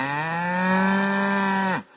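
A single cow moos in a long, steady low call lasting almost two seconds, close and clear, with no talking, set on pasture dried out by a lack of rain.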